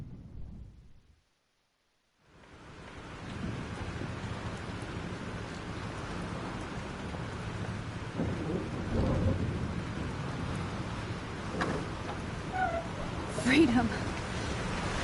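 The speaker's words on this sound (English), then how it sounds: "This storm is real." Thunderstorm in the game Life Is Strange: a steady wash of rain with low rumbling thunder, loud and continuous after a short silence, with brief sharper cracks near the end.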